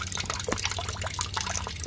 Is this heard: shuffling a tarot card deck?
no